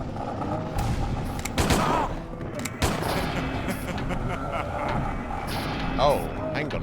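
Gunfire in the survival horror game Silent Hill 4: The Room, a few sharp shots scattered through a dense, rumbling game soundscape, with someone talking over them.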